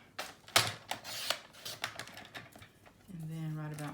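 Paper being cut down to size for a recipe mini album, a series of sharp snips and crisp cutting strokes, with a brief low tonal hum near the end.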